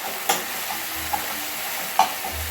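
Onion, ginger, garlic and ripe chili paste fry in a pan over lowered gas flame, giving a steady soft sizzle with a few sharp clicks of a spoon stirring against the pan.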